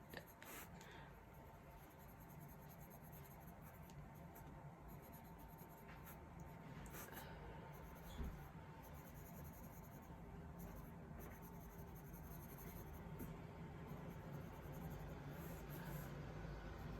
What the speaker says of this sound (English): So I'm going to have to write it down actually.